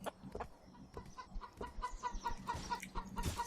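A chicken in Bear Simulator clucks in quick, repeated short bursts, close and moderately loud, over faint game ambience, with no speech.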